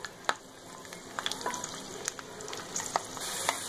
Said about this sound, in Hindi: एक पैन में सबसे पहले आधा कप करीब मैंने ऑयल लिया है और इसमें मैं ये लहसुन की कलियां फ्राई कर लूँगी